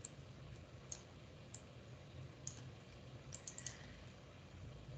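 Faint mouse clicks in InfraWorks software come as sparse single and paired taps, with a quick cluster of double-clicks near the end, close but very quiet over a low hum.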